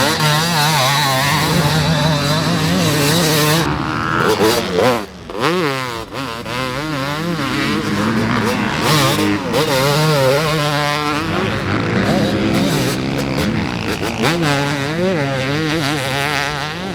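A 2025 Yamaha YZ250 two-stroke motorcycle engine revving up close and loud, its crackling pitch climbing and dropping repeatedly through throttle blips and a brief lull.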